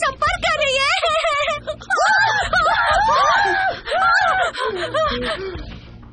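A person screams in a tense drama scene. The shrieks are loud, close and sustained, with gasping, wavering cries and strained vocal sounds running throughout.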